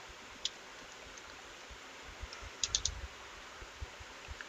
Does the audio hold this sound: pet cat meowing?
no